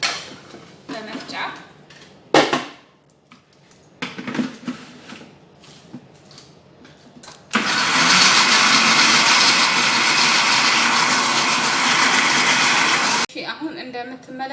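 A kitchen grinder processing egg whites with salt bursts into a loud, steady whirring roar partway through and runs for several seconds before cutting off. Before it starts there are scattered clatters and brief talk.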